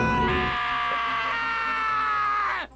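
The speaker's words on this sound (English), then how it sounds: "Hey, I heard screaming." Scream in a murder-mystery video game, a single sustained high-pitched cry lasting over two seconds, loud and close, ending in a sharp falling cutoff.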